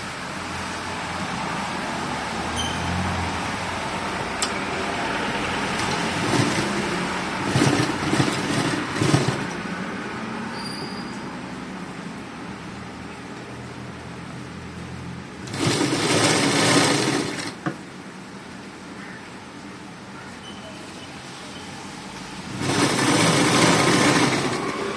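A sewing machine stitches piping onto a saree, running in a continuous whirring drone with louder bursts of rapid stitching, near and without talk.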